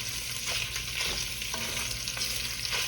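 Italian sausage fries in oil in a pan with a continuous loud sizzle, while a utensil scrapes and breaks up the meat in several rhythmic strokes.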